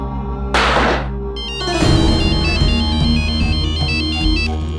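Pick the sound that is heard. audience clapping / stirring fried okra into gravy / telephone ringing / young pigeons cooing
telephone ringing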